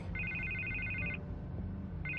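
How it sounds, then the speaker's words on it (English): Telephone ringing in the Batman Telltale video game, season 2 chapter 1, a clear electronic double trill that rings for about a second, pauses, then starts again over a low background hum. "I can't get the phone to stop ringing."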